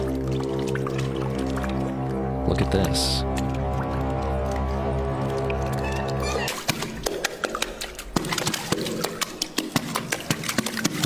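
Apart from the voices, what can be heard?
woman playing water as a musical instrument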